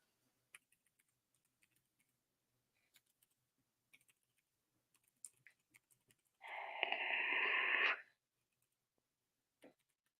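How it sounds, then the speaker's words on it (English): A short burst of quick typing on a computer keyboard, close and fairly quiet, lasting under two seconds amid a few isolated clicks in an otherwise silent room. "I can just type it out."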